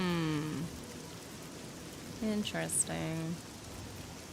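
Steady rain hisses across an Elder Scrolls game world, a constant wash of falling water running beneath a woman's intermittent speech.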